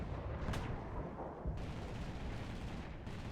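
Aircraft anti-shipping cannon firing in War Thunder, a dense, loud rumbling barrage of heavy booming shots that continues steadily for a few seconds with no voices.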